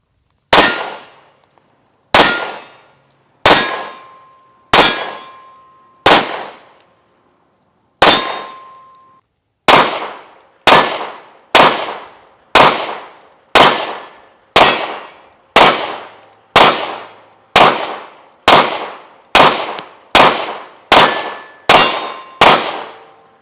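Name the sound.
Canik TP9 Elite SC pistol firing 115 grain rounds at range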